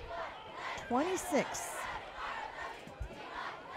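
A homecoming football crowd roars and yells in the stands, a broad sustained cheer with a shrill whistle rising over it, under a commentator's voice.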